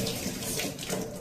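Water streams steadily from the outlet pipe of a Livpure RO purifier during backwash, a close, continuous rushing splash with no talk over it.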